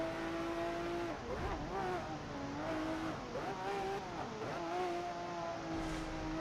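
A Lamborghini Murcielago SV with a manual gearbox revs loudly and continuously while racing, its engine note climbing and dropping through gear changes, close and sustained.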